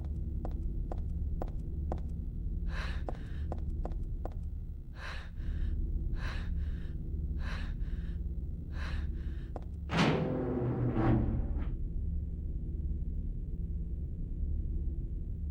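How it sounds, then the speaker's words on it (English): Heavy, laboured breathing from a character in the survival horror game Silent Hill 3, a series of rhythmic breaths over a low droning hum, followed by a louder gasping burst near the end. "She was breathing pretty hard."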